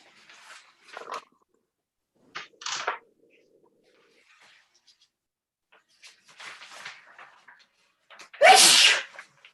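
A single loud sneeze bursts out near the end, after a few quieter rustles and small noises in an otherwise quiet room at a town meeting.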